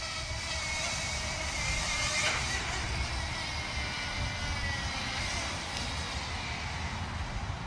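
A Thieye Dr.X drone flies in rain and wind, making a steady, close, buzzing whine that holds for several seconds with little change.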